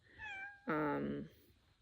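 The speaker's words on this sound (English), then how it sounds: "I hope you enjoyed the cats today" A single cat meows twice in quick succession, a thin rising call followed by a louder, fuller drawn-out meow, close and clear against a quiet background.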